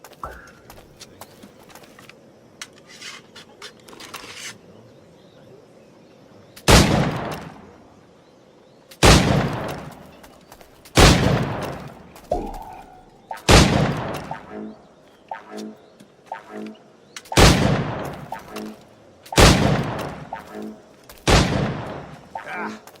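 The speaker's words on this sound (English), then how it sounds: "Try to strike every target before this hourglass empties." Gunshots fired at targets in the video game Assassin's Creed Black Flag ring out as about seven or eight loud, sharp cracks at uneven intervals, with quieter game ambience and a voice between the shots.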